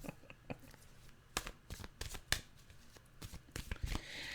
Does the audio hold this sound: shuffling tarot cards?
yes